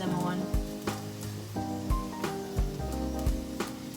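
Plantain fries sizzle and crackle steadily in hot frying oil in a pan, with soft clinks and scrapes as pieces are flipped, close and moderately loud, without talk.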